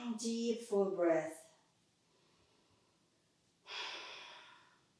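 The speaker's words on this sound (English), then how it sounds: "Deep full breath." Deep inhale and exhale during a yoga flow on a mat, a long breathy rush near the end after a quiet gap, following a stretch of soft voiced breath or sighing.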